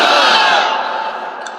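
Large crowd at an Islamic religious sermon chanting the takbir slogan, a loud sustained mass of voices in unison that slowly fades.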